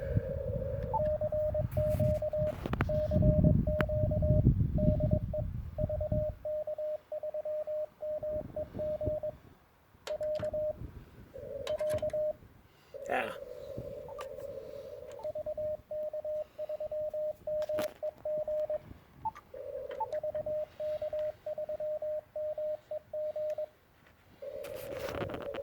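Morse code CW keyed on a portable amateur radio station working off a makeshift wire antenna: a steady mid-pitched tone chopped into dots and dashes runs throughout, with rough handling noise and rumble during the first few seconds.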